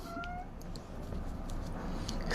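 A pet cat at home gives a faint meow or two, quiet against a soft room background that swells a little toward the end.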